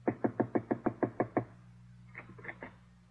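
A radio-show sound effect of knocking on Miss Lillie's door: nine quick, evenly spaced raps, close and crisp, followed by a faint hum and a few soft, scattered taps.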